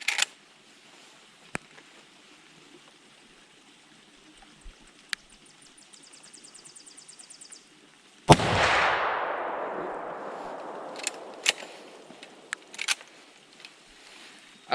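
A pre-64 Winchester Model 94 in 30-30 fires one loud, sharp shot that rings out with a long decaying tail outdoors, with small clicks and handling noises before it and a few faint knocks after.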